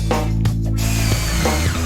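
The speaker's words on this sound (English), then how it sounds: "Then drill in new supports." A power drill runs steadily as new supports are driven into a wooden tabletop on a workbench, a loud, close whine with a few brief dips in speed.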